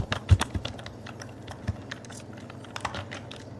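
Someone types on a computer keyboard in short, irregular bursts of clicky keystrokes, with one sharper tap near the start and quieter taps after it.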